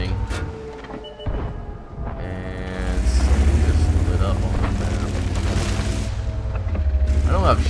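A tank cannon fires in World of Tanks: a sharp boom followed by a long low rumbling roar of engine and battle noise, with scattered mechanical clanks and a commentator speaking over it.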